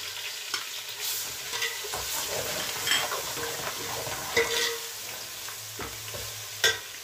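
Garlic and ginger sizzle and fry in a pot while being stirred, a quiet steady crackle broken by scattered scraping and clinking stir sounds.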